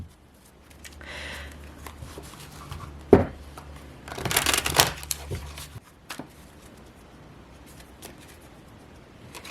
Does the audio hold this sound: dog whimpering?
no